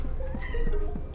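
A single short meow from a domestic cat rises and falls over a low, humming backdrop.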